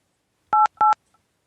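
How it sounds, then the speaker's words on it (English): Two crisp touch-tone phone dialing beeps sound in quick succession, close and clear against silence, each lasting a fraction of a second. "Why do we have this phone going?"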